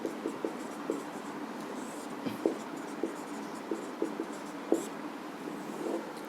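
Chalk or marker scratching across a classroom board during a Hindi sociology lecture, a run of short, fairly faint strokes and taps in an uneven rhythm with no talking.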